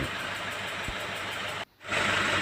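A Ford Everest 2.5 TDCi diesel engine runs just after being rebuilt, giving a loud, steady broadband roar that briefly drops out and then returns.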